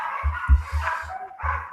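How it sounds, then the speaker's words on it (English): Several short, deep barks from a dog in the house, heard in a quick irregular burst, close and moderately loud. "My dog's barking."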